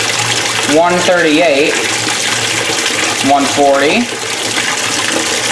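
Hot water runs steadily into a Speed Queen C Series washing machine, a continuous splashing fill that stays close and loud while a person talks over it.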